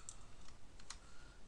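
Computer keyboard typing during spreadsheet work, a few faint, sparse clicks with one sharper keypress, quiet and close with no talk.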